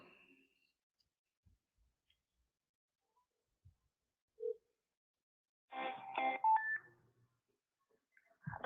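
A phone dialing out to delivery-app support, with a few scattered faint clicks, then a short burst of rapid, clipped keypad tones followed by a brief beep, in a quiet room.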